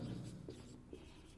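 Chalk or marker moves across a board while a physics derivation is written out, producing faint, short scratchy strokes in quick succession in a quiet room.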